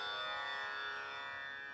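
A tanpura drone tuned to C sharp plays from a phone app as a steady, faint, sustained hum with rich ringing overtones and no other sounds.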